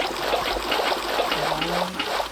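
Water trickles and streams steadily into a hole in modded Minecraft, a continuous close liquid rush with a brief tonal blip partway through.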